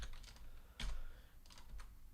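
Quick bursts of keystrokes on a computer keyboard, a few soft clacks followed by a firmer keypress and a short trailing flurry, close and quiet with no talking.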